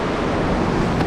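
Large ocean waves at Shelly Beach, Ballina, roll in as a dense, steady wash of surf and wind noise that stays loud and close from start to finish, with no voices.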